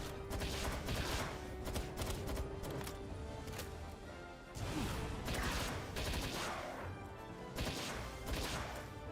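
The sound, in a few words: legendary rifle gunfire in the video game Palworld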